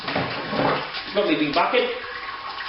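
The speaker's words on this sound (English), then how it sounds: "I'm going to sparge with just straight tap water" Straight tap water runs into a big bucket for sparging on a Robobrew brew day, a steady close rush of flowing water heard under a man's speech.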